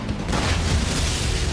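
A rocket launcher built from scrap doll parts fires a single shot in an anime, a loud, close, rumbling blast with a dense low boom that holds steady for over a second.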